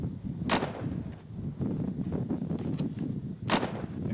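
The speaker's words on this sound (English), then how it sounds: "Fire off our guns" Two sharp gunshots ring out about three seconds apart, loud and echoing, over a low rumbling background.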